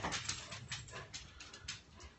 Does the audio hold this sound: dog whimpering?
yes